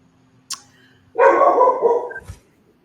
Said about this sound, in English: Oh, I love that we have some dogs.